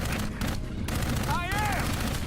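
Video game gunfire in a firefight: dense rapid shots crackle through the whole stretch, steady and loud, with a brief whistling sweep partway through.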